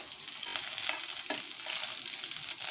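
Curry leaves tossed into hot oil already holding mustard seeds, cumin and broken dried red chillies, crackling and sizzling in a steady bright hiss with a few sharper pops, close up and without talk.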